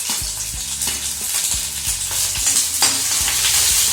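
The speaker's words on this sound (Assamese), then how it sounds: "এতিয়া তেলটো অলপ কেঁচা হৈ থাকোঁতে ইয়াত আমি এতিয়া পিঁয়াজখিনি এড কৰি দিম" Finely chopped onions fry in hot oil, giving a steady, loud sizzle throughout, with repeated dull scraping knocks from stirring at a fairly even rhythm.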